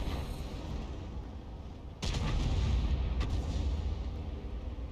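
An M44 self-propelled artillery piece firing in the tank battle game World of Tanks, one sharp heavy boom cutting through a steady rumbling engine and battle drone, followed by a lighter crack.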